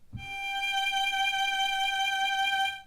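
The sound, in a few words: violin playing G note in first position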